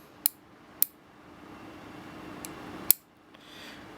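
Scissors snip through an ethernet cable being trimmed even, giving several sharp separate clicks spaced over a few seconds against a quiet background.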